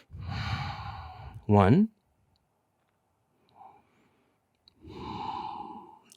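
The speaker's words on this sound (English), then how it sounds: "First thing, fold forward, exhale." A person exhales during a yoga forward fold, a sighing breath heard close and clear alongside calm spoken instruction before and after it.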